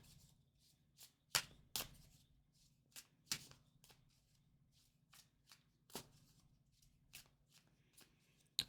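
Tarot cards being shuffled by hand, with irregular crisp riffles and snaps of the deck, some sharp and loud and others softer, over a low steady hum.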